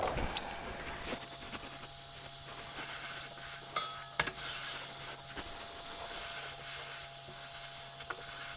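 Ingredients toast in olive oil and seasoning in a pan for a summer salad, giving a steady, soft sizzle with a few sharper clicks and scrapes from stirring, and no voices over it.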